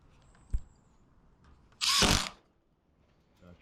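A drill drives a screw into soffit panelling during a soffit and fascia installation, giving one loud half-second whir after a brief click, with quiet surroundings before and after.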